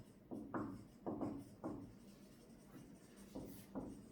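A marker or chalk scratches across a board during a classroom lecture on the mole concept, in a series of short, close strokes with brief pauses between them, with no talking over them.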